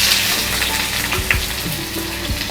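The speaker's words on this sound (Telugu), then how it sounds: "గరం మసాలా అంతా వేగిపోతుంది" Whole garam masala and onions frying in hot oil, a loud continuous sizzle with low thumps and scrapes from stirring, close and unbroken by talk.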